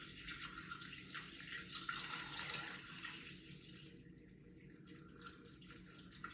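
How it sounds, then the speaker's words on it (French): Water poured steadily into a Thermomix bowl, a continuous splashing trickle at moderate level that softens slightly toward the end, with no talking. "Donc on va commencer par mettre les 300 g d'eau."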